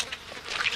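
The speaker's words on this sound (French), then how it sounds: "Évidemment, les moustiques s'en mêlent." Cartoon mosquitoes on an island buzzing in a thin, whining drone that swells and fades in several close passes, heard alone.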